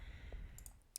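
A few sharp, faint mouse clicks come one after another in a quiet room while someone works in Roblox Studio, with no talking over them.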